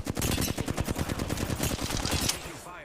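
Rapid automatic gunfire in the Tomb Raider video game, a loud, dense string of shots fired in quick succession for almost three seconds before cutting off.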